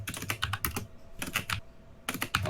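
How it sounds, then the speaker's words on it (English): Fingers clatter across a computer keyboard in two quick runs of crisp keystrokes, separated by a short pause, close and clear with no voices. "I'm just typing."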